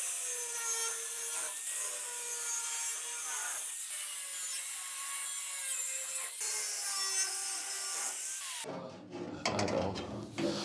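A saw or cutter runs steadily and loudly through metal omega and C drywall channels with a harsh, rasping whine for about eight seconds, then breaks into scattered clattering and scraping at the end.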